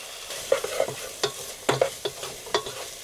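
Garlic and black pepper stirred into browning meat in a pan for shepherd's pie, with a gentle sizzle under repeated scraping clicks of a utensil against the pan, several distinct strokes close by.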